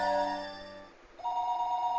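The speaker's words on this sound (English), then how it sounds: "Stop with the ring! It's been ringing for 2 minutes!" A telephone rings in the video game Higurashi When They Cry, a loud electronic ring tone that pauses for a moment and then starts again, alone and close.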